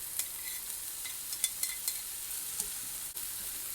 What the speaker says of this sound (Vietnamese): Mình xào cho tất cả cái nhân này nó chín lại luôn.